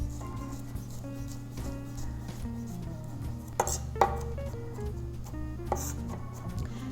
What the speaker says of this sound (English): Now we're just going to mince up our garlic.